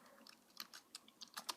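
Keys clacking on a Perkins-style Braille keyboard of a Braille notetaker, a quick, uneven run of close, faint clicks and taps with no talking.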